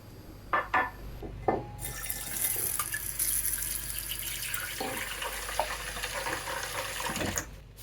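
Tap water runs into a sink while Kenner/Hasbro Star Wars figures, including an Ewok Wicket, are cleaned, opening with a few soft clicks before a steady close splashing stream sets in.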